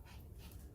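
Sammy the dog pants and whimpers softly at close range, a steady breathy rhythm with faint low whines running through the short stretch.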